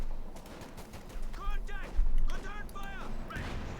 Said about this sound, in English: Note this is an ace machine gun under Jibber's command.